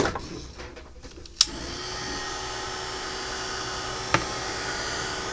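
Heat embossing tool blowing steadily over ink on a handmade rainbow card, a continuous close whir after a sharp click switches it on, with another brief click partway through.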